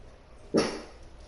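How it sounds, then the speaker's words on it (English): A puppy in a video game gives a single short, clear bark, close up and alone against a quiet background. "puppy's barking"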